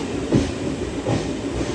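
A DEMU passenger train pulls out of a station on the Kacheguda to Raichur line, with steady rumbling carriage noise and a couple of rhythmic wheel clunks over rail joints, loud and close from inside the coach.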